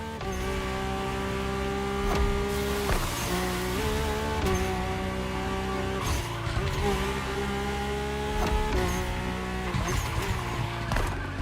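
A Mercedes-AMG One revving hard in The Crew Motorfest, a loud steady high-pitched engine whine rising and falling through gear changes with brief tire squeal, close and continuous.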